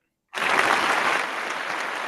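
A burst of applause starts abruptly and holds steady, a dense crowd-like clapping that continues without letup.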